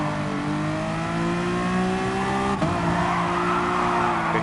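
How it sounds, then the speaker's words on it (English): Honda NSX GT3 race car in Gran Turismo Sport breaking loose with sustained tire squeal over a loud droning engine, the pitch sliding and wavering as the car skids, continuous and close. "My car broke loose because I really overdid it."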